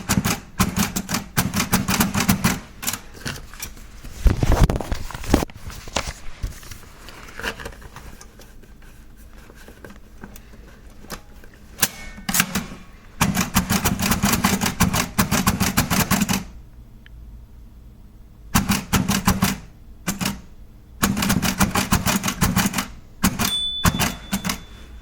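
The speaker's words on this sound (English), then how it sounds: "take out a couple of envelopes and write Braille labels on them, just in case" A Braille writer embosses labels onto letter-sized envelopes, producing rapid bursts of sharp, typewriter-like mechanical clacks in dense runs broken by pauses and scattered single strokes, close and loud.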